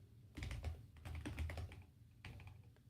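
Computer keyboard typing while code is written for a Vue project, a close, quiet burst of rapid key clicks, a short pause, then a few more keystrokes.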